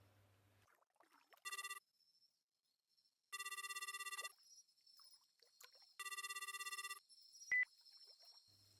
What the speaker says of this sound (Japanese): 呼び出し音に続き、